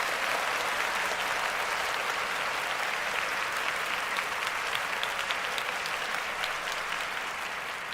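Sustained applause from a group, dense and steady throughout, fairly close and even in level, with no talking over it.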